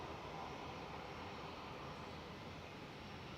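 A Jet2 airliner, called a little 300, at Manchester Airport: a faint, steady engine roar heard from a distance without any change.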